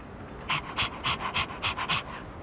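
Koromaru, a dog in the video game Persona 3 Reload, pants in a quick, steady rhythm of about nine breathy huffs, close and clear over a low hum.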